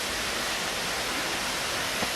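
A waterfall on Mount Tambourine roars as a steady, dense broadband wash, loud and unbroken, with no voices over it.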